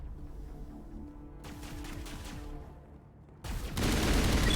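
Plasma rifle fire in Mass Effect comes as rapid bursts of sharp, repeated shots with booming impacts, rising to a loud, dense roar near the end. No voices are heard.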